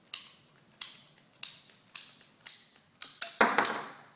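Hand squeeze cutter snipping through pieces for a stand up paddleboard floor rack, a series of about eight sharp, close cuts at a steady rhythm, each a crisp snap with a short decaying tail, the last one longer and fuller.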